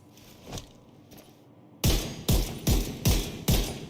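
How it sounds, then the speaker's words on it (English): Six heavy marksman rifle shots ring out in Division 2. They come loud and close at an even, fairly quick pace after a quieter opening with faint handling noises, and each crack leaves a short booming tail. "the whole point of this is to fire it at a higher rate than you normally would with a marksman rifle"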